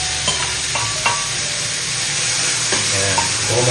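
Tomatoes go into a pan of sautéed garlic and onion for corned beef, giving a loud, steady sizzle with occasional spoon scrapes and stirring clinks up close.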